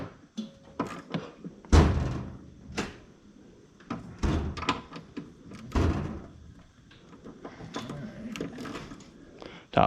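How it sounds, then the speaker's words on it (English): Ratchet set down into the open door of a toolbox during a starter replacement on a 1988 Ford Ranger, a series of close metallic clunks and knocks with drawer rattles, sharp hits spread unevenly across the stretch. "Ratchet goes right in the door that's open there."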